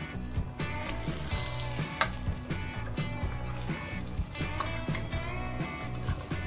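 Beef sizzles and fries in a pan for a home-cooked Malaysian beef curry, with a continuous crackle under scattered clinks and sharp tonal stirring sounds, and no talking.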